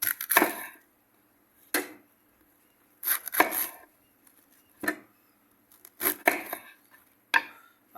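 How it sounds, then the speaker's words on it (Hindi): A knife chops cabbage on a board in a kitchen while chicken fried rice is being prepared. Close, crisp thuds land in short bursts, separated by quiet pauses, with no talking. "अब हम बंद गोभी काट लेंगे।"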